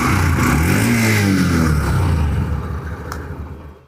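A 2022 Honda CB Shine 125cc BS6 motorcycle revs up close by, its loud single-cylinder exhaust note rising in pitch over the first couple of seconds, then easing off and fading toward the end.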